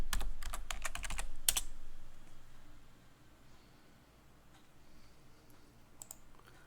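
Quick bursts of keystrokes on a computer keyboard as a password is typed, a close cluster of clicks up front, then a faint tap or two against quiet room hiss.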